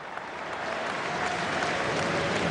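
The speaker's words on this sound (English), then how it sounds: "Standing ovation here. The Norwegian crowd rising as Riise looks to finish with a flourish." A Norwegian stadium crowd at a Norway v Scotland football match applauds in a standing ovation, a dense, steady roar of clapping that swells slightly and holds throughout.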